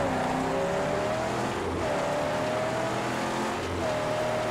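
A car engine runs at full throttle in the Mad Max video game, its whine climbing in pitch in repeated surges as it shifts through gears over road rumble.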